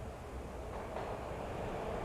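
A train in the video game Max Payne rumbles steadily and moderately loud throughout, a continuous low rolling drone with a slight swell midway.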